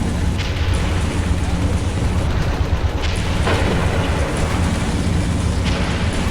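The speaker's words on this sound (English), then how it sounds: "Okay, that tank's destroyed." A tank is destroyed in Men of War: Stalingrad, heard as a loud rumbling explosion with booming blasts layered over dense continuous battlefield noise.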